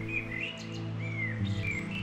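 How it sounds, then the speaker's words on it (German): Birds chirp and tweet at a quiet Black Forest campsite, several short melodic calls rising over a steady low background hum. "Diese Ruhe und das Zwitschern der Vögel"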